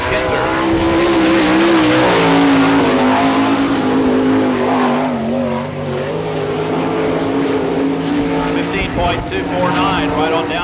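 Kelly Kinzer's sprint car screams around the Barberville, Florida dirt oval during Speedweek, a loud sustained engine roar with shifting pitch as it laps, an announcer talking over it.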